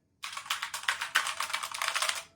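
Typing on a Redragon mechanical keyboard with red switches: a quick, close run of soft, evenly paced key clicks lasting about two seconds after a moment of silence.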